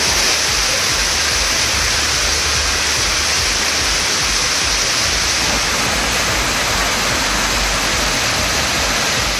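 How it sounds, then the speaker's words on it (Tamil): Surplus water pouring out of overflowing Ramakkal lake and other lakes beside the Dharmapuri–Krishnagiri road after heavy rain and flooding, a dense, loud, continuous roar of rushing water with no let-up. "ராமாக்கால் ஏரி உள்ளிட்ட பல ஏரிகள் நிரம்பி வழிகின்றன"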